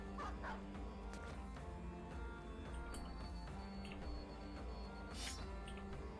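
Dog barking and yipping in the turn-based video game Battle Brothers, a series of short, fairly faint barks and whimpers over a steady backdrop of game music.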